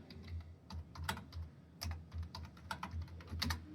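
Rapid, quiet clicking of computer keyboard keys in an irregular rhythm, with a few sharper, louder keystrokes standing out, all close and without talking.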